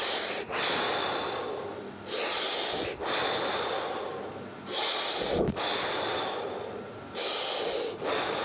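Heavy, rhythmic breathing during a squat exercise: long, loud hissing inhales and exhales close to the mic, repeating in steady cycles of about two seconds with short pauses between.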